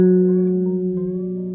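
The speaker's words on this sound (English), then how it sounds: "on its own, the 4th string, 4th fret will sound like this" A single guitar note on the 4th string at the 4th fret, played on its own in a beginner major-chord lesson, rings clearly and sustains with a faint echo-like tail, fading only slightly.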